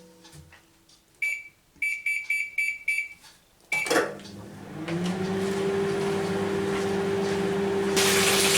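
A microwave oven heating vegetables: a series of rapid electronic beeps from the keypad, a clunk, then a steady low hum with fan noise that keeps running.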